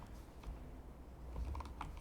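Soft, quick keystrokes tap on a computer keyboard while code is entered, a light, irregular clatter heard close and quiet with no talking.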